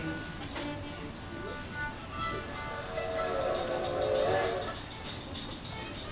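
A school string class plays the open D string together during a winter concert exercise called the train, a steady, moderately loud sustained bowed tone with pulsing repeated strokes toward the end.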